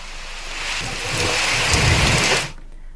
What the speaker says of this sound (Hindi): झांसी में बीते कई दिनों से लगातार बारिश भी हो रही है